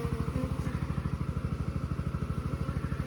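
A small pump motor runs steadily while pails are filled, a loud, close, rapid rhythmic chugging with an even mechanical pulse throughout, no talking.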